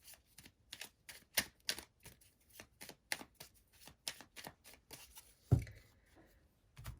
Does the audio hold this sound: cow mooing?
no